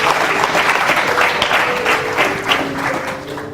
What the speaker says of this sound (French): Si vous voulez acclamer le Seigneur pour vous.